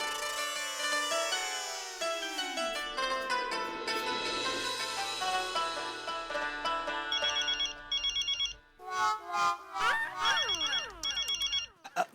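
A mobile phone ringing in someone's pocket plays a long, melodic electronic ringtone for about twelve seconds with repeating chirpy phrases, loud and close, and no one talks.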